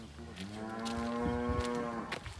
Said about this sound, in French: Et les vaches vous ont vu.